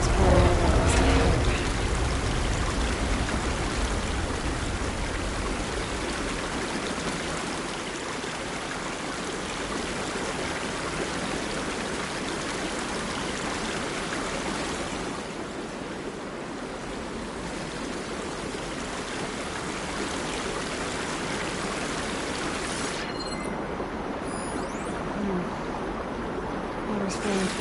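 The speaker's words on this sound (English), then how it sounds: "Water's pouring out across the road." Water pouring out across a road in Horizon Forbidden West, a steady broad rushing wash that holds throughout, with game speech over it.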